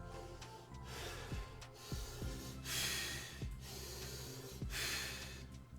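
Several sharp nasal breaths drawn in by a person, close and fairly quiet, repeated at irregular intervals with no talking.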